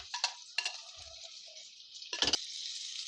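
Onions, tomato and ginger-garlic paste frying in a pan with curry leaves, crackling in a steady bright sizzle, broken by a few louder stirring scrapes and clatters near the start and again near the end.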